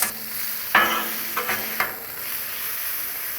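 Potatoes and sausage frying on a Blackstone griddle: a steady, close hiss of sizzling with a few scraping stirs of a spatula, no talking.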